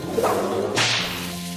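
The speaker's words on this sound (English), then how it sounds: "Whip it!" Sharp whip crack in the Western comedy role-playing game West of Loathing, a quick swish followed by one loud snapping crack, close and clear with a low game tone underneath.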